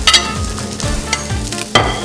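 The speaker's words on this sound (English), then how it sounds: "we're going to go ahead and saute our minced garlic and ginger" Minced garlic and ginger sautéing in a hot pan, a loud close sizzle with rhythmic stirring scrapes of a utensil repeating every half second or so, with no voices.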